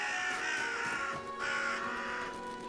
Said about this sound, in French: Il se fait attaquer par les corbeaux.